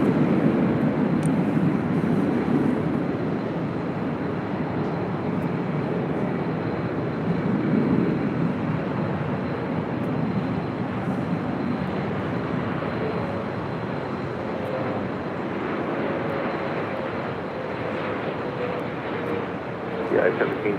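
An airliner rolls for takeoff on runway 24 left at LAX, its engines a sustained loud roar heard for the whole stretch, with a radio voice talking over it.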